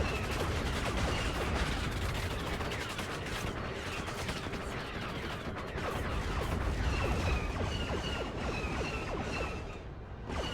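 An AT-ST walker's heavy blaster and light laser weapons fire in a Star Wars mod of the strategy game WARNO, a dense, continuous barrage of rapid zaps and bursts layered over battle rumble.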